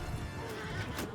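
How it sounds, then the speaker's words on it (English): Horses charge through a battle in Mount and Blade 2 Bannerlord, with steady neighing and whinnying over a continuous clatter of hooves, loud and sustained throughout. "So I'm going to tell my horse archers to charge in now as well"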